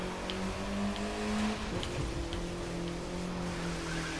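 A Mini Cooper S in a racing video game hums with a steady engine tone that shifts pitch partway through, moderately quiet and continuous with faint ticking sounds above.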